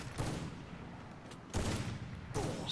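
Gunshots from the video game Free Fire during a Granny horror mode match, three sharp, loud bursts spaced over a couple of seconds against a steady background rumble, with no voices.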